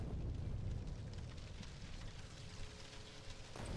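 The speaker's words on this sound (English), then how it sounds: "Beautiful rocket crash" A rocket crash-landing explosion in Factorio, heard as a steady, dense roaring rumble like fire and debris that holds throughout before cutting off abruptly near the end, with no voices.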